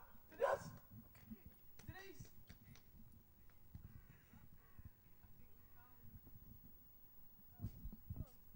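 A dog barking in short bursts, a couple of sharp barks near the start and more near the end, under ongoing conversation between people.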